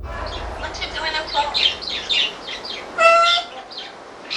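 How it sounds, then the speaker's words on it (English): Nikisi the African grey parrot gives a series of short chirps and whistled, speech-like calls, close and clear over faint low background hum. "Nikisi the African parrot"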